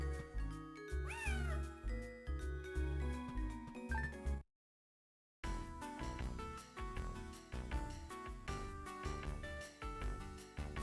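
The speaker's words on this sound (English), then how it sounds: "I'm sure there's another cat down here somewhere." Cats meow repeatedly in the Phantasy Star 0 video game, a series of clear mewing calls over game music, broken by a brief silent gap.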